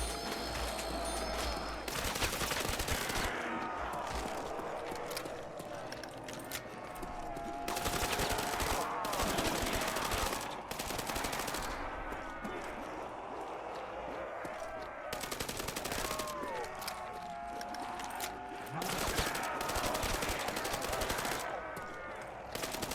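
Rapid gunfire from a weapon in a video game with zombies, loud broadband bursts repeating in clusters across the clip, with short pauses between volleys.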